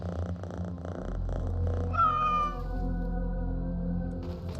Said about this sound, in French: Trop mignon, je peux le caresser le petit chat.